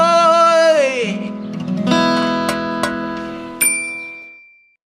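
A bright notification bell rings out with a crisp metallic ding and a long ringing tail, after a gliding electronic tone and a few softer chimes.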